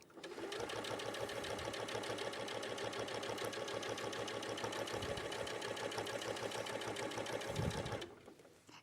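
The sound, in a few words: sewing machine top stitching without a walking foot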